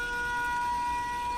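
An alarm siren in the video game Factorio, a steady, even electronic tone that holds unchanged throughout this short stretch, moderately loud with no voices.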